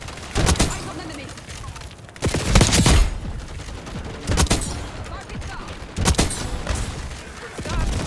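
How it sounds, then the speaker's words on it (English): Gunfire in a Call of Duty Hardpoint match: four loud bursts of rapid shots about every two seconds, each with a booming tail, over constant game noise. "It was some really good shots right there."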